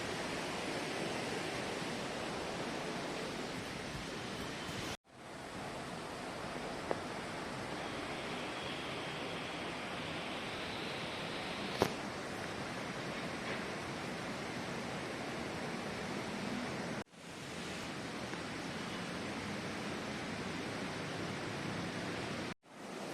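Broad, steady rush of a large swollen river at the Rudraprayag confluence in Uttarakhand, a continuous loud roar heard alone, cut by two brief dropouts.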